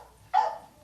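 A single short dog bark or yip rings out once, moderately close, with no other sound around it.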